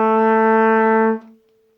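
A single sustained trumpet note B, steady and full-toned, held for about a second before cutting off cleanly, played alone with no talking.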